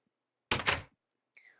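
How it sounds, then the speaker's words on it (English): Minecraft doors thunk shut, two hard wooden knocks in quick succession, followed after a short gap by a fainter, higher creak-like tone. "I'm going to close the doors because nice people close the doors after them."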